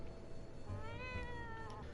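Cat in a video game letting out a single drawn-out meow, faint against a steady background hum.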